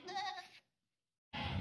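A two-toothed castrated goat for sacrifice bleats twice at a livestock market, each call loud and close with a short silence between them.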